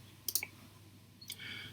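A computer mouse clicks on a forum link in a Moodle course page, giving a crisp double click followed by another single click, close and quiet over a faint background hum.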